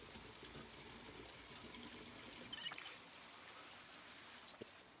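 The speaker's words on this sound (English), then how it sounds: "So this empty bottle, we might as well fill it up while we have unlimited water." Water running and pouring into an empty bottle in Project Zomboid, a steady faint trickle throughout with a brief louder splash midway.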